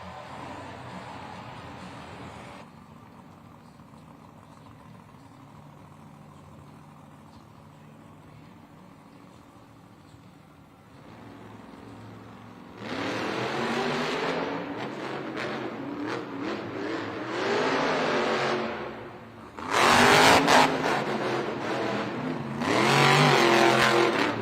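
The Velociraptor monster truck's engine idles low before bursting into loud, roaring revs during a Monster Jam racing run in a Denver arena, with surging bursts and sharp throttle blips that grow louder toward the end.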